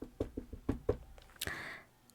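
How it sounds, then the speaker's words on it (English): Several sharp knocks on a door in a quick irregular cluster, close and fairly loud, followed by a brief rustling burst, with no talking. "There's a little knock on their door."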